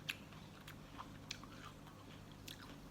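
Someone bites and chews crunchy, juicy tropical fruit such as wax jambu, with a few sharp close crunches spaced about a second apart over quiet chewing.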